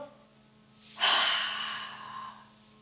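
A single long exhale during a yoga session, starting with a soft inhale, then a loud, breathy release that fades gradually, close to the listener, with no talking.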